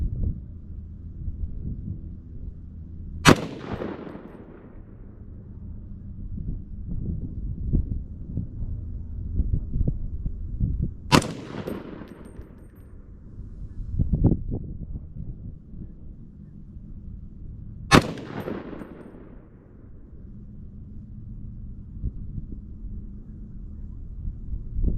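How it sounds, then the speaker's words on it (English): Rifle shots from an Aero Precision M5E1 .308 firing Hornady ammunition outdoors, three sharp loud cracks spaced several seconds apart, each with a decaying echo, over steady wind rumble. "there's our final 4 shots with the Hornady"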